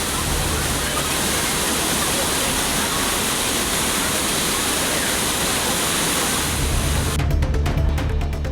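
Thirparappu waterfall on the Kothai river pours in a loud, dense, continuous roar of falling water, steady and close throughout, with no voices heard.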